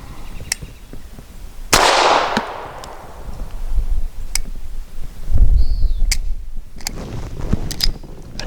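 Suppressed Bersa Thunder 380 pistol fires with a sharp, close report followed by a hissing, decaying tail, then scattered clicks, handling noise and another duller thump later, alone without talk.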